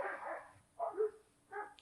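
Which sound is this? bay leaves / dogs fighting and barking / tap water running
dogs fighting and barking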